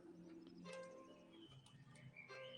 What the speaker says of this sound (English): That's birds, for sure.